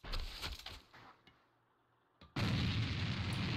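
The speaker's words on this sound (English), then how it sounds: "More nades coming out now." Grenade explosions in a competitive online shooter match, A.V.A, with heavy booming blasts at the start, a near-silent gap, then a sustained loud, dense roar of explosive fire.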